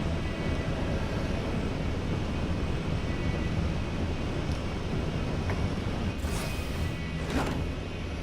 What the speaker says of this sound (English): There's the aircraft.